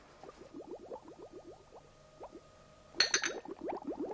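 Water nearly at the boil bubbles softly, with quick repeated pops and gurgles that grow into a brief louder burst near the end, all faint and without voices.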